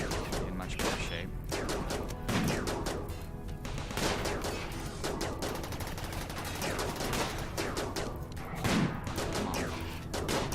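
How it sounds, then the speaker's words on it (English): Rapid bursts of gunfire from the video game RimWorld, dense volleys of overlapping shots crackling continuously with a few heavier thuds, loud and close throughout. "They're not still shooting at the one that's dead"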